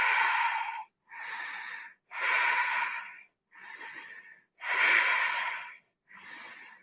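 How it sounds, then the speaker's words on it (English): Deep belly breathing held in a yoga bridge pose: six slow, close breath phases, strong airy inhales alternating with softer exhales, evenly paced with brief pauses between them. "Let's take 5 deep breaths here."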